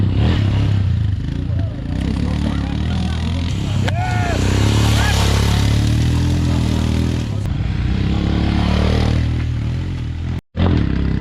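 A lineup of Royal Enfield Himalayan motorcycles idling and revving at an outdoor riding event, a dense, loud engine rumble with crowd noise, clatter and a crowd voice over it.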